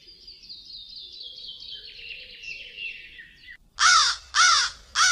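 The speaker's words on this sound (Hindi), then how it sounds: "एक कौवा टहनी पर बैठा काई काई कर रहा था।" A cartoon crow perched on a branch gives three loud, harsh caws in quick succession near the end, after a stretch of softer high chirping tones.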